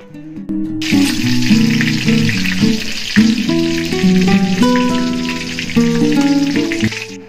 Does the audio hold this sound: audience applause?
no